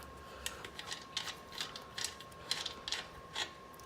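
Wrench loosening the axle nuts on a Super 73 Scout S1 e-bike frame: a run of quiet, close ratcheting clicks in irregular short bursts, with a faint steady hum behind them.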